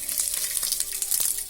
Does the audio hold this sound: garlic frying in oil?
yes